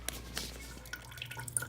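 Water drips and trickles from a toilet part as it is removed, a few scattered close drops and splashes over a low steady background.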